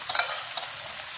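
Peeled shrimp stir-fry in a hot pan with steady, close sizzling and a few light scraping stirs.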